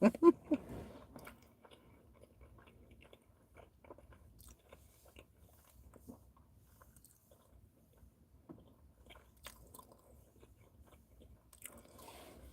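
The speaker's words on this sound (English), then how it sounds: "You gotta chew 100 times." Someone chews food close by, with a few crisp bites at the start and then faint, sparse crunching and mouth clicks in a quiet room.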